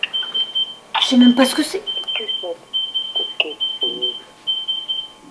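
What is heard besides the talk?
alarm clock ringing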